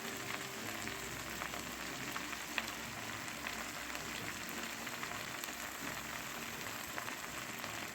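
Gongura leaves frying in oil in a pan for Andhra-style gongura pickle, giving a steady, even sizzle with a crackling texture throughout, moderately quiet and unbroken by speech.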